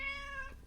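A single short cat meow, near and fairly soft, a clear tonal cry sliding slightly downward, heard alone without talk.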